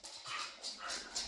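A pet dog whimpering and giving soft yips, a few short, rising whines repeating close by and fairly quiet, with no talking over them.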